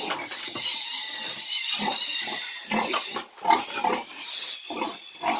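Agitated sow grunting and oinking repeatedly at close range after one of her piglets was lifted, with a sharp squeal near the end and pig-pen shuffling between the harsh grunts.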